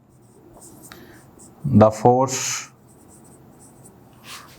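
Faint, scratchy strokes of writing on a board in a classroom, scattered through the clip. A teacher speaks briefly in the middle.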